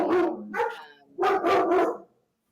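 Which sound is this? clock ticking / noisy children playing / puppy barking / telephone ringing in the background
puppy barking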